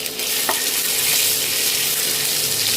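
Cumin seeds and ginger-garlic paste fry in hot oil and butter, a loud, dense, continuous sizzle close by with a brief splatter early on.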